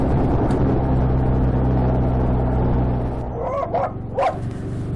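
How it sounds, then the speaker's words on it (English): A yappy little dog barks a few short yips near a petrol station, partly masked by a loud idling motorcycle engine rumble that drops away toward the end. "of course I had to stop next to the table with the obnoxious yappy little dog"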